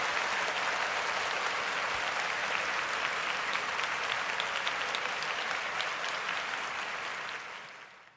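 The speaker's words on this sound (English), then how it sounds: "So we're going to stand up and applaud" Crowd applause during a 49ers versus Raiders football broadcast, a steady wash of many hands clapping, moderately distant and even, tapering off at the end.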